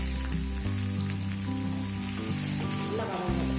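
Peeled, chopped shallots sautéing in a pan for horse gram kulambu, giving a steady close sizzle with a strong low hum underneath and no talking.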